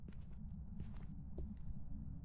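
In the Phasmophobia video game, a hunting ghost's footsteps tap faintly and irregularly over a low droning background, soft and somewhat distant.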